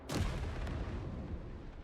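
A gunpowder cannon firing in the vehicle-building video game Trailmakers, a single sharp, booming blast followed by a long rumbling tail that fades slowly, with no voices.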